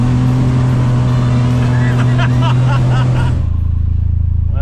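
A 2025 Polaris Ranger XD 1500 utility vehicle drives uphill on an incline, its engine giving a loud, steady low drone close by that drops in pitch near the end.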